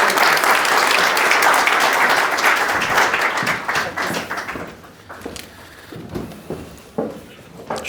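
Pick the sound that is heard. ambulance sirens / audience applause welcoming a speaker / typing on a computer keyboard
audience applause welcoming a speaker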